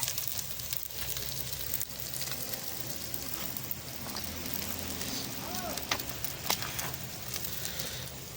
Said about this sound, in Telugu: ఆయిల్లో ఉల్లిపాయలు పచ్చిమిర్చి అయితే వేసుకున్నాం